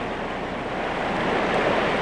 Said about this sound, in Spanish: Se trata de un conjunto de pequeñas cascadas formadas al superar el río los estratos calizos horizontales